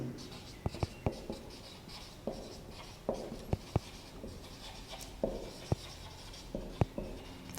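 Chalk writes a note on a classroom board, with scratchy strokes and sharp taps at an irregular rhythm, close and clear, and faint talk in the room.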